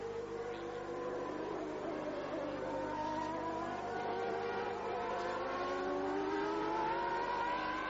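A 1993 Formula 1 car with a Renault engine races down the straight at the Brazilian Grand Prix at Interlagos, its high engine whine rising steadily in pitch, fairly faint and heard from a distance with no talk over it.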